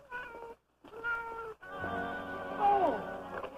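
A cat gives several drawn-out, wailing meows, complaining and close, broken by brief pauses. The last cry rises into a louder, strained yowl.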